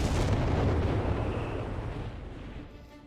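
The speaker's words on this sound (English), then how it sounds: "And there go more Bishop fire here." Bishop self-propelled artillery fires in Company of Heroes 3, a loud, heavy boom that rolls out and fades over a few seconds.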